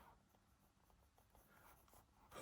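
A pen scratches across a calendar journal page in soft, quiet, irregular strokes, with a louder rustle of paper or hand at the very end and no voices.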